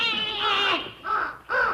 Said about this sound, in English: That's that scarecrow you're sitting on, you stupid crow.